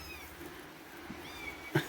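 Kittens in a barn on a rainy day, with a few faint, thin meows drifting in and out over steady background noise and one sharper, closer cry near the end.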